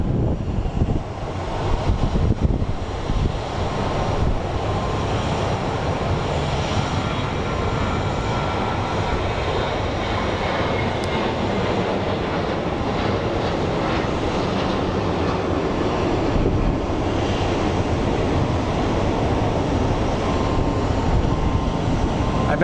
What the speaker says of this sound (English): they really like the freaking wind that's hitting here